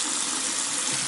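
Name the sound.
sink faucet running hot water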